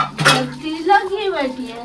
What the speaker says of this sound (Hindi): ये जो है बर्तन धो ले